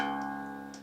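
A single low guitar string tuned down a whole step to C sharp rings out alone as one sustained, steadily fading note.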